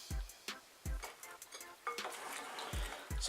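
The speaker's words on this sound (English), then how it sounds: "which I've got to stir in, beating after each addition" A spoon stirs chopped leek into bread roll dough in a bowl, giving a series of distinct scraping clunks and soft thuds at an irregular pace, close and fairly quiet.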